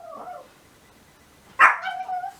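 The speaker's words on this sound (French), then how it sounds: "t'entends Jack pis Ben qui jappent avec les voisins" Two dogs, Jack and Ben, bark along with the neighbours' dogs, a faint distant yip at the start, then a sharp close bark followed by a couple of trailing whimpering yelps.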